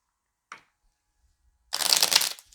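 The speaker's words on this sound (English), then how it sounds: "Draw 4 forest cards, so that means I have to shuffle" A deck of board game cards is shuffled close by: a brief flick, a pause, then a dense riffling burst lasting about a second, with no voices.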